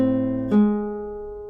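Classical guitar sounding a single isolated A flat while the thumb and middle finger mute the neighbouring strings, a clean plucked note with a sharp attack that rings and slowly decays, alone and close.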